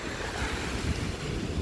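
Ocean waves wash continuously onto a beach, a broad rushing surf mixed with wind buffeting the microphone, with no voices.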